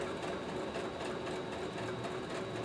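Sewing machine stitching a fabric face mask at regular speed, a steady continuous mechanical whir with a fine rapid needle patter, moderately quiet and uninterrupted, with no one talking.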